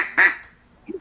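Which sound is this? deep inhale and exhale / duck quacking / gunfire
duck quacking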